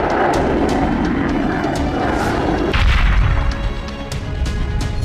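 Test launch of a Fatah-4 cruise missile: a loud, sustained roaring rush with a heavy low boom partway through, then a continuing rumble that fades slightly, with no voices.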